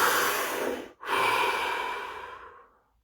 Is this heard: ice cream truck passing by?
no